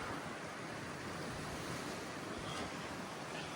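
Ocean waves wash steadily at the sea entrance of a Riviera Maya resort, a broad continuous surf hiss with some wind, fairly faint and without voices.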